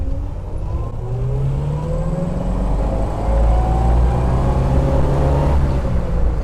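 A 1941 Buick Roadmaster convertible accelerates hard in first gear, its engine droning close and steady as the pitch climbs in repeated sweeps over a deep low rumble.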